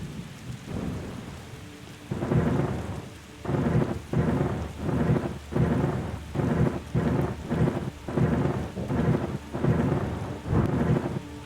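A game thunderstorm in The Gardens Between: constant rain under a run of rhythmic, evenly spaced rumbling thunder swells repeating roughly every second, loud and close, with nobody speaking.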